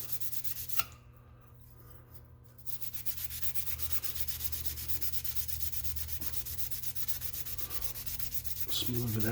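Steady rubbing sanding on a shift tower part for an Eaton Fuller Road Ranger transmission, knocking down high spots, continuous and close with a short pause early on and a clunk near the end.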